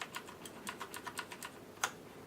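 Keys on a HyperX Alloy FPS mechanical gaming keyboard are pressed in a steady run of crisp clacks, about a dozen evenly spaced strokes ending in one louder hit, close and clear with no voices.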